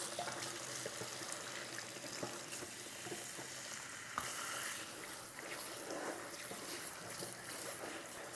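Food rinsed under a running kitchen tap, a continuous hissing, splashing water stream close by with small shifts as the food is moved, no talk.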